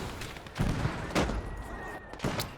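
A 60mm mortar fires in a Stalingrad battle in the WWII game Gates of Hell, with several short muffled thumps spaced about half a second apart over a low rumbling din.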